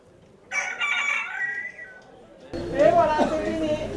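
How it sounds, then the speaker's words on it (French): A rooster at a crowing contest lets out a loud, drawn-out crow, followed by another crow from a different bird, with people talking nearby under the calls. "T'as gagné avec un coq qui chante 65 fois."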